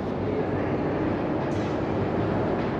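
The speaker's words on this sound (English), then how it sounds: "Now we are gonna take the metro." Metro train in Kharkiv, a steady, loud rumble of wheels and carriage noise running throughout with no clear breaks, heard from close by.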